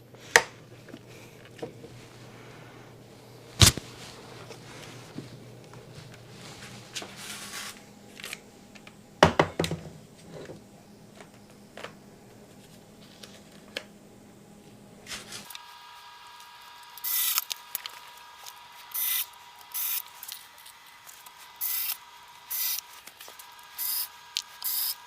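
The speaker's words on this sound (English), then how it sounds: "and screw the pickguard down" A screwdriver drives screws to fasten the pickguard on a Gibson SG Special guitar, giving faint scraping and ticking with a few sharp clicks, then a steady tonal hum and intermittent bursts later on.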